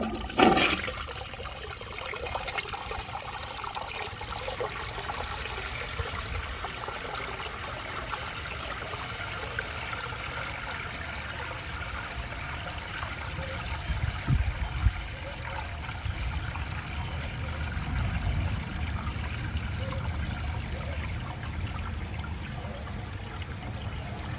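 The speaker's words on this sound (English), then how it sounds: "Now let's see how it flushes with a clogged siphon jet." A blue 1963 American Standard Cadet toilet with a clogged siphon jet flushes in one long, steady rush of water that keeps running and gurgling throughout, close by, with no talking.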